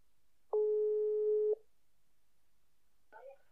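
A phone line tone sounds while a podcast host dials a guest: one loud, steady electronic beep lasting about a second, then silence. A brief faint voice follows near the end.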